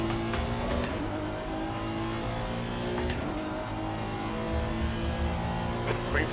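Race car engines roar steadily in the Live for Speed racing game, with revving and tire noise as a player chases a BMW in a daily online race. The sound is loud and continuous, with faint talk underneath.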